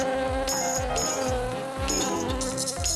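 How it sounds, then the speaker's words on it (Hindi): A housefly buzzing close by, a steady whining drone with pulsing swoops as it circles near, over a light backing tune and with no voices. "हे, गलीज मक्खी,"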